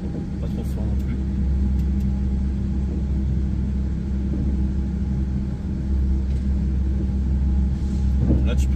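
Rail traction motors and machinery rumble steadily inside a train maintenance depot, a low continuous drone with faint clanks, while people talk nearby.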